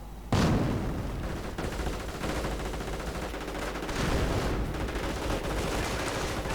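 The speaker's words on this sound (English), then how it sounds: "Panzergrenadiers are charging in, mortar rounds are flying." A World War II strategy game battle with Panzergrenadiers: loud bursts of rifle and machine-gun fire and heavy mortar booms layered continuously, with a big blast at the start and another around four seconds.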